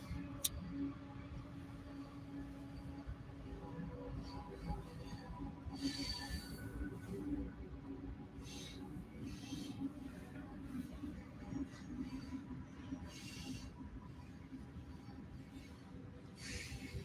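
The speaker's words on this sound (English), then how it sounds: "I'm gonna let the train pass, guys." A train passing at a distance, a long steady low rumble and rolling clatter lasting the whole stretch, with faint higher squeals and hiss rising now and then, no talking.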